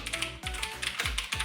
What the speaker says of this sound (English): this typing test is not gonna be good, but we're gonna attempt it